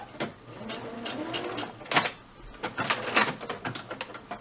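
A sewing machine back-stitches the seam of a homemade DIY fabric face mask in a series of short, uneven mechanical bursts with brief pauses, fairly close and moderately loud.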